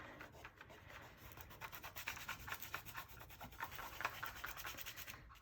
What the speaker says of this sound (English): now you're just gonna rub it on with your hand to make sure it's really stuck on there